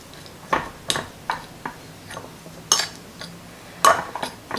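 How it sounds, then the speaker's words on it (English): A fork mashes hard-boiled egg yolks in a bowl for deviled eggs, giving about eight sharp, close clinks and taps against the bowl at an irregular pace, with soft scraping between them and no talk. "I'm just going to break up the yolks with my fork"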